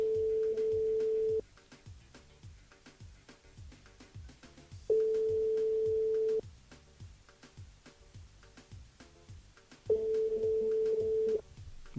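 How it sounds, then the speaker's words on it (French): A telephone rings repeatedly without being answered, with three long steady tones spaced several seconds apart over a quieter background. "Bon, ça sonne, mais ça répond pas."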